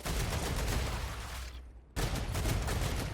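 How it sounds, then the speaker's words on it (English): Dense, rapid gunfire rattles in Star Rupture, a continuous loud burst that cuts out briefly before resuming just as heavily. "I'm trying to shoot that gap and it's just not working"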